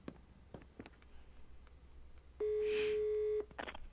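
A telephone call tone in a Murder on the Orient Express video game sounds as a single flat electronic beep lasting about a second, with a few soft clicks before and after it.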